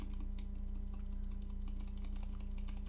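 Keyboard fitted with Zilent V2 silent tactile switches being typed on continuously, a dense run of muted, soft clicks and thocks at a steady quick rhythm, close and clear without talk.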